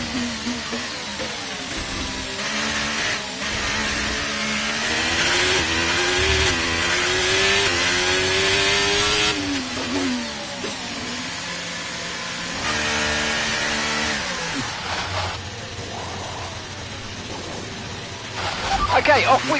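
A Formula 1 car in the racing game F1 23 pulls away from a pit stop, its high-pitched engine revving and climbing through gears loudly and continuously. A commentator's voice talks over the engine much of the time.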